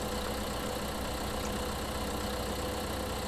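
A John Deere tractor pulling a trailer in Farming Simulator 2015 gives a steady, loud, continuous engine drone with no break and no voices.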